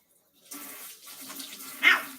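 Hot water runs from a kitchen tap into a floury sourdough mixing bowl being rinsed, a soft uneven splashing that starts after a brief silence and ends with a louder splash.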